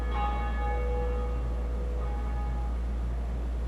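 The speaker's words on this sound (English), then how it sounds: "we finally run the Bell of Awakening" The Bell of Awakening in the video game Dark Souls, rung once with a clear, deep church-bell toll whose overtones ring out and slowly decay over a constant low hum.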